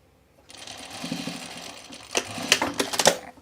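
A domestic sewing machine stitches a dress, its motor buzzing steadily at first and then breaking into a sharper, louder run of rapid clattering near the end, close up and with no voices.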